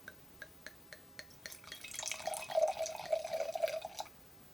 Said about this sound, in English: And we're going to pour this now.